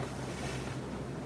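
Waves breaking against a dock at a beach with boats nearby, a steady loud wash of surf and wind noise filling the whole short moment without pause.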